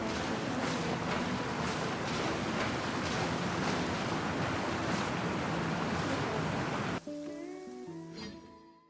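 Rushing water roars steadily as a huge whirlpool churns in Genshin Impact, dense and close for about seven seconds before cutting to quieter game ambience with soft tonal chimes.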